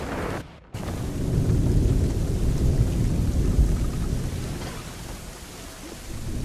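A heavy thunderstorm rages in Assassin's Creed 3, with steady loud rain and deep rolling thunder that briefly drops out, then surges back and rumbles on with no voices.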